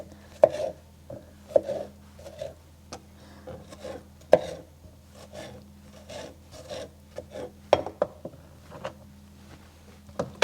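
Tomatoes being rough chopped with a knife on a board, giving a close series of irregular thuds and taps with short pauses between bursts of cuts, over a low steady hum.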